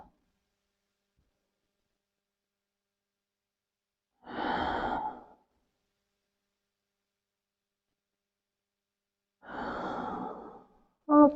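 Slow exhales during a guided breathing exercise in a body-awakening yoga session, two soft, close breaths separated by long silence, with a brief breathy sound at the very end.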